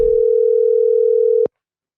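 A steady phone dial tone hums loud and close for about a second and a half while a call is placed, then cuts off abruptly into silence.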